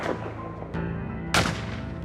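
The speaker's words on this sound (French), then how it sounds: "À ce moment-là, on peut entendre les coups de fusil." Hunting rifle shots ring out in a forest as a couple of sharp, booming reports with echoing tails, loud against a dense background.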